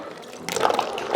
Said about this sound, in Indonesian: habis itu masukin susu evaporasinya